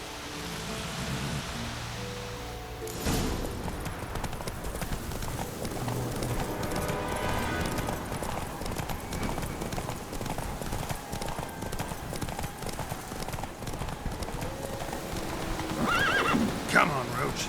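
A horse gallops in a race in The Witcher 3, its hoofbeats a steady rapid clip-clop under wind-like rushing noise, with a neigh near the start and voices talking over the ride.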